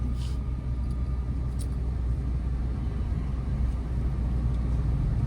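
A car moving in the left lane of a highway in second gear gives a steady engine and road rumble that holds at a constant level. Only a faint rise from gentle acceleration comes through, with no talking.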